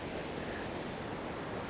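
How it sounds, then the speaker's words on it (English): Ocean surf rolls in at Mt Maunganui beach in New Zealand, a steady broad wash of breaking waves with some wind buffeting the microphone, continuous and moderately loud. "One of New Zealand's best surf beaches."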